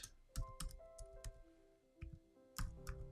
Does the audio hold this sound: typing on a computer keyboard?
yes